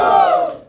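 A stand-up comedy audience lets out a short, loud burst of cheering and shouting that quickly fades away.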